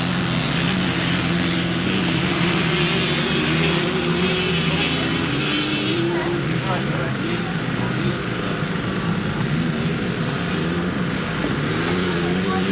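A little 4-stroke Honda motorcycle at a grasstrack race revs hard and continuously as the rider winds the throttle through a turn, a loud droning engine roar mixed with other bikes and crowd ambience under a commentator's voice.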